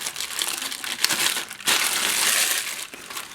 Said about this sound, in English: let's rip this open